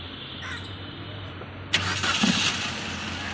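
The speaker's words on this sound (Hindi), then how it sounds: "कार जो है एकदम हमारी हाफ सेल्फ में स्टार्ट हो चुकी है, और इंजन जो है हमारा स्टार्ट है अभी।" A 2022 Maruti Suzuki Ertiga petrol engine, just rebuilt after a head overhaul, cranks and catches with a sudden loud burst, then settles into a steady near idle over a low background hum.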